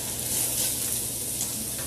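Carrots and onions fry in a pan for a tofu stir-fry, giving a steady, close sizzle with soft crackling throughout and no voices over it.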